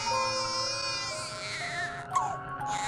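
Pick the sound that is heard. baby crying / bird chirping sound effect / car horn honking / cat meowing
baby crying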